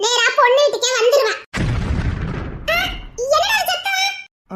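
Cartoonish comic explosion effect standing for a bursting heart, a sudden broad boom with a rumbling decay that cuts between lively Tamil comedy dialogue and leaves the voices briefly silent.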